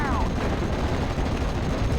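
Vickers heavy machine gun firing in the video game Steel Division: Normandy 44, a loud, dense stream of rapid gunfire that continues without a break, with other battlefield blasts mixed in.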